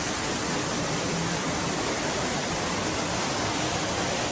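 A waterfall on the Calico Mine Train ride at Knott's Berry Farm pours as a steady, dense roar of rushing water that fills the space evenly and closely, with no talking over it.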